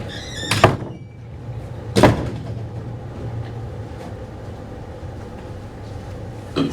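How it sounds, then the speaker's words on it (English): A door clunks shut with two heavy thuds about a second and a half apart, followed by a low, steady room hum and a faint knock at the end, with no talking. "Let me shut this door."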